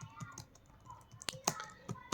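Keystrokes on a computer keyboard during a Hindi typing lesson, a sparse, irregular series of crisp clicks with a few louder taps, close up and quiet, with no talk over them.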